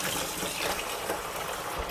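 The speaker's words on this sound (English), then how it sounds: "So we can just run some hot water into the bucket." Hot water running from a tap into a bucket, a steady, full rushing and splashing pour that holds at an even level throughout.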